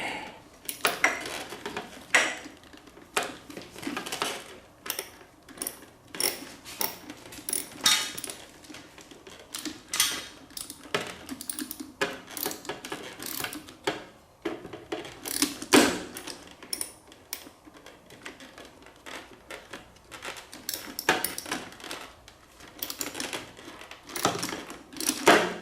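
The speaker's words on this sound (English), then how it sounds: "Now let me flip my ratchet in my other hand here." A ratchet wrench clicks in quick, uneven bursts while tightening on a Kawasaki Z1A motorcycle carburetor, sharp metallic ticks close up over a faint background.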